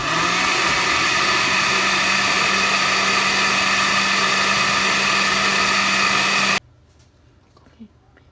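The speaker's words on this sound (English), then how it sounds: "we're going to blend all of it" A blender whirs loudly and steadily as it purees a cooked chili sauce for Mexican menudo, a constant close motor roar that cuts off abruptly, followed by faint room sound.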